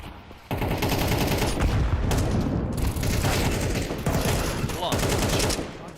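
Sustained automatic gunfire from a Counter-Strike match, rapid bursts of shots continuing loudly almost without pause, with faint commentary voices underneath.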